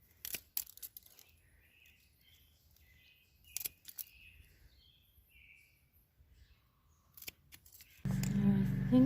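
Tulip stems being cut with scissors during deadheading in a home garden, a few sharp, close snips spaced apart over quiet background, followed by a sudden louder rustling handling noise at the end.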